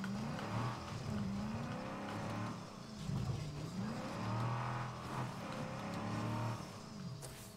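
A car engine in the zombie survival game State of Decay 2 drones and revs steadily, rising and falling in pitch as it drives over rough ground, with no voices over it.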